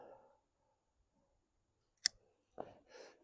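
A single crisp snip of pruning shears cutting through an elderberry stem, close and sharp, followed by faint rustling handling sounds in an otherwise quiet setting.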